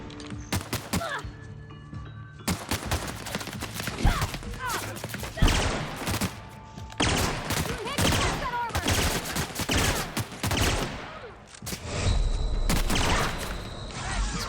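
Sci-fi space gun fire from The Outer Worlds: dense, loud volleys of rapid shots and thuds crowding the whole stretch, with brief pauses between bursts and a heavier booming blast near the end.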